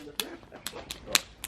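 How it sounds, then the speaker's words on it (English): Heated rocks in a Niuean umu earth oven cracking and popping, a handful of sharp, separate snaps spread across a quiet outdoor background, with one louder crack near the end. "one of the rocks has been exploding"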